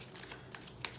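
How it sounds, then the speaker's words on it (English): Tarot cards riffled in a quick shuffle, a few soft papery bursts of flicking cards across one second, close and fairly quiet with no talking. "Let's do one more shuffle"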